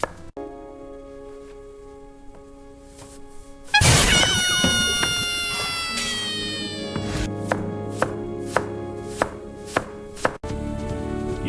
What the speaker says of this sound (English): Chop these carrots nice and even.